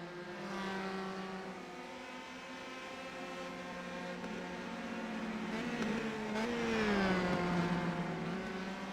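Race car engines drone steadily on track at a sim racing event, several cars running close together in a draft, with pitch rising and shifting as one car comes nearer, no talk.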